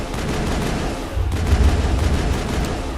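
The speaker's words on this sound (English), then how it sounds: "And now I can exit and shoot." Gunfire in the video game Mass Effect on Insanity difficulty, a dense rumbling barrage of rapid shots and low booms that swells midway and keeps churning steadily, with no talk over it.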